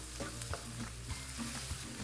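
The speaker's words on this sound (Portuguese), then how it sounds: "Misturar aqui mais um pouquinho." Cooked food is stirred in a pan, a spoon scraping and tapping in a loose rhythm over a soft steady sizzle, close and without talk.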